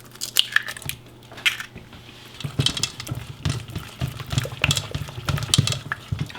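Keto brownie batter being stirred with eggs, likely in a bowl: irregular wet squishing and patter strokes, close and fairly quiet, repeating unevenly with short pauses.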